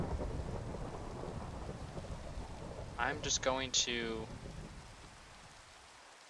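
In a Minecraft tornado mod, a thunderstorm roars with steady heavy rain and low rolling thunder. Someone speaks briefly partway through, and the rumble then slowly fades.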